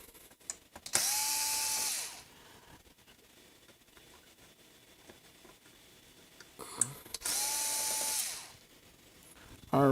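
A power screwdriver whirs in two bursts of about a second each, spinning screws out of a game console being repaired, with quiet handling clatter between them.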